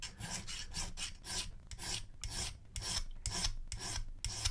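A metal file rasps across the surface of a key being flattened for impressioning, a series of rhythmic back-and-forth strokes, close and moderately loud with no talking.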